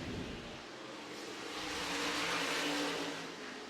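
Modified race cars at Franklin County, Virginia, come off turn 4 in a pack, their engines swelling into a loud roar that peaks and then eases slightly, with a broad rushing noise over the engine note.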